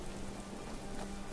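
Steady rainfall in Skyrim, an even wash of hissing patter on surfaces with no distinct drops standing out, continuous and moderately loud without voices.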